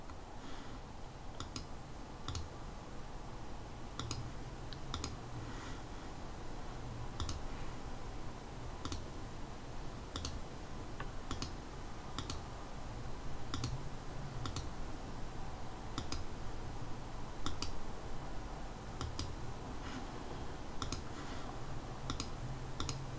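A computer mouse clicks steadily and repeatedly while someone works in Inkscape vector drawing software, with crisp evenly spaced clicks over a constant background hiss.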